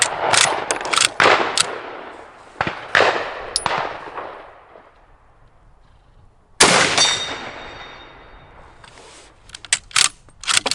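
Sharp, loud rifle shots at an outdoor range from an M44 and a K98, several cracks in quick succession with ringing tails, then a pause before another close burst of shots and bolt clatter.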